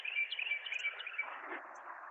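Birds call continuously, the cardinals and blue jays in the area sending out a bright, steady chatter with sharp chirps on top, close and fairly loud, alone without talking.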